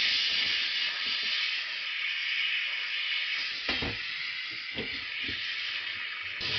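A Polti Vaporetto SV440 steam cleaner with its small nozzle steams the inside of stove burners, a steady loud hiss throughout with brief knocks and clicks of the nozzle against metal.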